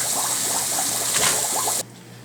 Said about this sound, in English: So now basically we're just draining the water.